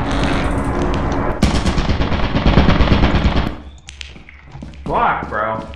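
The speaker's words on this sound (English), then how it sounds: "There's a lot of fucking turrets over here." Turrets in the video game Lethal Company fire in a loud, rapid automatic burst lasting a few seconds, then cut off, with people talking over and after the gunfire.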